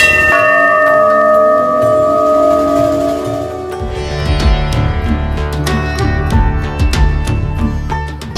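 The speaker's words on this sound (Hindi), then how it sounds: "मीलों तक गूंजेगा भव्य मंदिर में लगने वाला विशाल काय घंटा" A huge bell at the grand Ram temple in Ayodhya rings loud and near, its long sustained tone first humming steadily, then struck repeatedly with sharp metallic clangs and rich overlapping resonance.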